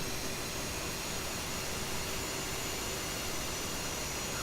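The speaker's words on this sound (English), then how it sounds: "those engines are powerful" F/A-18C jet engines run in the DCS World flight simulator, a steady broadband jet roar with a faint whine, constant and moderately quiet throughout.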